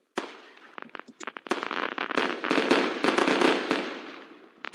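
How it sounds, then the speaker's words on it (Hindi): Firecrackers set off for Diwali crack and pop in rapid irregular bursts, sharp reports overlapping into a dense crackling barrage, with a last few loud bangs near the end. "बच्चों, ये पटाखे क्यों जला रहे हो तुम सभी?"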